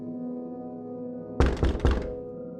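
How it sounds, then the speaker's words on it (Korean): Two or three hard, heavy thuds of someone pounding on a room door, landing in quick succession over a low sustained ambient drone, loud and close in a horror radio drama effect. "누군가 방문을 세게 내리치는 것 같은 그런 소리가 들렸고"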